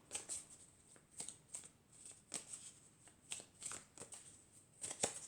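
Elf oracle cards are shuffled by hand in quick repeated riffling bursts, about ten crisp papery flutters at a fairly even rhythm, close up with no talking.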